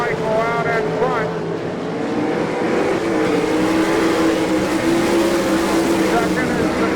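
Sprint cars roar around a dirt track at an All Star Circuit of Champions race in Abbottstown, PA, engines droning and swelling steadily under a race announcer's voice.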